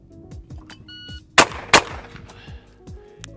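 Two sharp, loud shotgun blasts from a custom Italian UGC Venus side-by-side in 20 or 28 gauge, fired in quick succession on double triggers, each followed by a short echoing decay over faint background noise.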